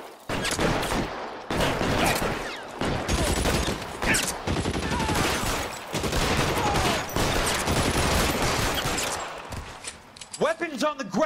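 Dense, sustained gunfire from a 1940s police shootout in L.A. Noire, with rapid overlapping shots from several guns hammering almost without pause and a voice shouting during the exchange.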